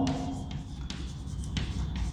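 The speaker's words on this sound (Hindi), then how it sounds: "तो लिखेंगे इनका डिफिनीशन।" Pen writing out a definition on paper, a series of short scratchy strokes with brief pauses between them, close and quiet over a low background hum, no speech.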